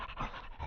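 A dog named Nugget pants in short, breathy bursts as a radio drama sound effect, quiet and close, several quick rhythmic huffs over less than a second.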